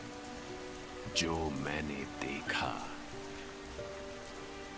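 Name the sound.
heavy rain falling outside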